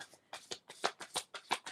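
Tarot cards riffle and slap in a quick, close sequence of crisp papery bursts, about a dozen in under two seconds, as a card is drawn from the deck.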